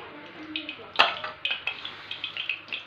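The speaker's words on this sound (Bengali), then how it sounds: "প্রথমে আলু পেঁপেগুলোকে ভেজে নেবো" Potatoes and papaya frying in oil in a wok, a soft sizzle under light scraping and clinks of a utensil against the pan, close, with a voice talking over it.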